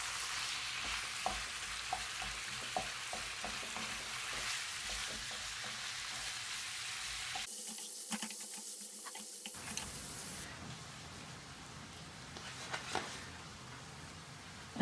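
Ethiopian tibs sauté in a pan with black pepper and rosemary, giving a steady close sizzle and crackle with light stirring taps, briefly fading before the frying resumes more softly.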